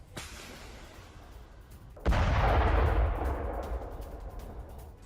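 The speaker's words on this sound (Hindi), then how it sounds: "जेवलिन मिसाइल जो दागी गई रूस के ठिकाने पर और इसके बाद जो रूसी व्हीकल है वो तबाह।" A Javelin anti-tank missile launches against a Russian position near Bakhmut, and an armored vehicle is destroyed: a sharp launch crack, then a heavy booming blast that rumbles loudly and fades over a few seconds, with no voices.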